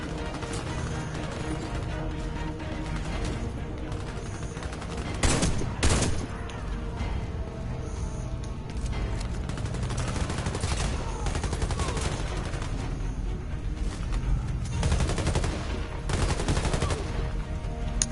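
Gunfire from the video game Warface crackles in dense bursts and rapid volleys, with a louder burst near the middle and sustained shooting throughout, no speech over it.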